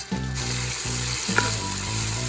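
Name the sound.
onions frying in oil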